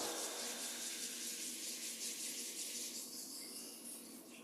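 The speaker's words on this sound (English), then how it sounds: "Gently rubbing the palms together" Palms rubbing gently together during a qigong practice, a soft steady hiss of skin on skin that holds evenly, fading slightly near the end, quiet and close.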